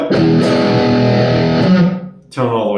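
Strandberg Boden Essential electric guitar played through heavy distortion with the tone knob fully up, a loud sustained chord ringing for about two seconds before cutting off, then a fresh chord struck.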